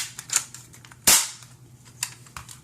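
Han Solo blaster airsoft gun firing, a few sharp snapping shots with one loud crack in the middle and fainter pops around it, close and alone without talk.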